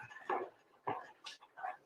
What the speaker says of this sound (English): I think one of the dogs wants to get